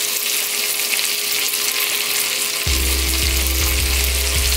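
Meatballs and chicken sausages sizzle on a hot grill, a steady frying hiss joined by a louder burst of crackling partway through as pieces are flipped, with faint low knocks near the end.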